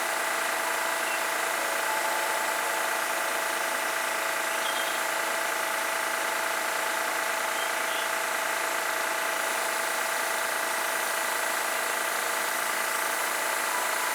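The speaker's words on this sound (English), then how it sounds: "my airbrush is vibrating everything off the table" Airbrush compressor running steadily beside an acrylic fluid-pouring setup, a continuous mid-to-high mechanical hum and buzz with faint vibration, moderately loud and unbroken throughout, no voices.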